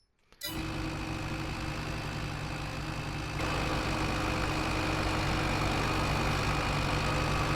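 A tractor engine in Farming Simulator 22 kicks in after a brief silence and settles into a steady, close idle. It grows a little louder partway through and runs unbroken to the end, with no voices.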